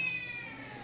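A cat in a shelter's adoption room gives a single drawn-out meow, high and tonal, fairly faint and slightly distant, with no voices over it.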